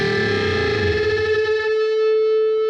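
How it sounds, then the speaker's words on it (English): A heavily distorted electric guitar bends a note on the B string toward an A, the two pitches beating and fluttering against each other, then settling into one sustained, steady tone. "you can surely hear that fluttering of the interference between them two notes"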